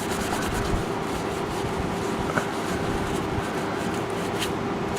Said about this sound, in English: then just rub the crap out of it, get all that dirt off there